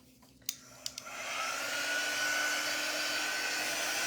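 A few faint clicks and taps come first, then a hair dryer switches on and holds a steady, close whirring roar while drying a freshly painted craft project.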